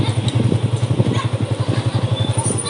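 Motorcycle engine running steadily up close during a ride, with a low, regular pulsing throb and some clatter throughout.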